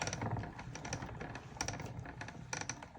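Stampin' Up! die cutting machine cranked by hand, feeding a 3D embossing folder through; close, steady clicking and ratcheting with a few louder clacks, no voices.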